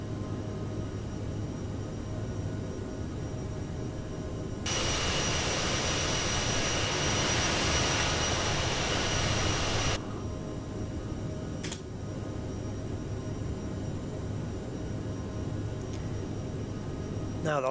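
Jet engines on a CRJ700 regional jet in Microsoft Flight Simulator drone steadily, then surge into a louder, broader roar for several seconds before settling back to a lower hum. A brief click follows, and a voice may be faintly present.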